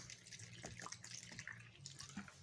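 Lukewarm water pours from a tap into flour for bread dough in a country kitchen, a faint, close trickle with small splashes and drips.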